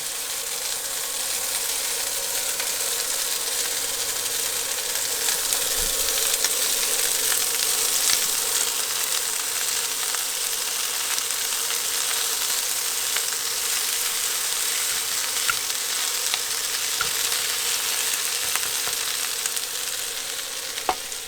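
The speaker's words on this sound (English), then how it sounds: "We're going to throw in our rice." Rice and pea pods stir-frying in a hot pan in an RV kitchen, a dense continuous sizzle with scattered crackles and scraping stir strokes, loud and close, with no talking.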